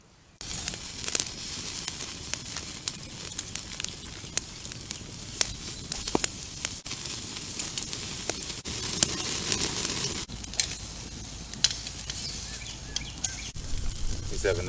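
Beef short ribs sizzle and crackle on a grill over a campfire outdoors, a steady hiss broken by frequent sharp pops and snaps, moderately close and without talk.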